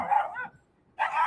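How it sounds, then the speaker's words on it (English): Dogs bark loud and close in two short, sharp bursts separated by a brief silence. "The dogs are upset, which is valid"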